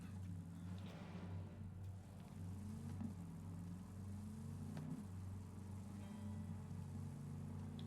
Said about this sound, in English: And we get back in our car